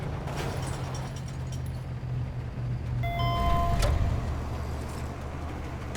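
Vehicle being commandeered in the Mercenaries 2: World in Flames video game, a steady low engine rumble with a brief mechanical door or window whine and a short burst near the middle, no talk.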